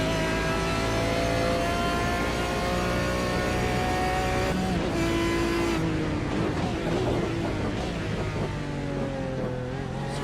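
Onboard engine of an MR Automotive Aston Martin race car in a sports sedan sim racing round at Detroit Belle Isle, loud and close with steady high revs, a brief downshift and then renewed acceleration.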